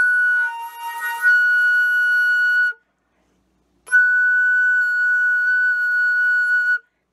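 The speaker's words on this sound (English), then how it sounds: "But I cannot play a high F sharp with my B flat thumb." A flute tries for a high F sharp with the B flat thumb key down and produces a thin, whistly, strained tone. It comes as two sustained attempts of about three seconds each, separated by a short silence, with no talking.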